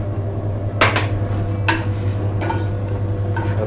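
Carrots and sweet potatoes tumbling into a pan of hot oil: a few distinct clattering knocks and scrapes of pieces hitting the pan over a steady low hum, with faint sizzling between them.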